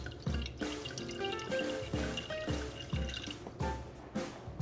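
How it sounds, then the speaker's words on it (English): A splash of screw-top white wine poured into a hot pan while cooking freshly caught fish, giving a close, steady liquid trickle with repeated drips and small bubbling pops and no talking. "then we're gonna add a splash of white wine"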